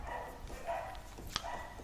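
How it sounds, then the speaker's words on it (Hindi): Dogs bark somewhere in the distance, faint and muffled, a few scattered yips against a steady background hum with no one speaking. "ये कुत्ते भी पागल हो हैं"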